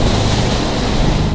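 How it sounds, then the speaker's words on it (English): Storm waves surging inside a beach home at North Topsail Beach, a continuous loud roar of churning water mixed with wind buffeting, steady and close with no speech. "Take a look at the waves crashing inside this home in North Topsail Beach"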